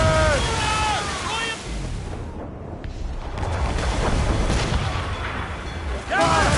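Ship cannons firing in the video game Assassin's Creed Rogue, heavy booming blasts with rushing water and a voice shouting over the battle.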